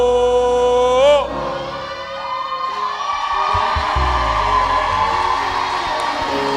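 A church congregation shouts a loud collective "wow" at the start, a swelling group cry that fades into a murmuring crowd and organ-like tones, with a preacher's voice following.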